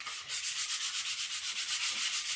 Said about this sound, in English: just lightly sand the surface of your fins here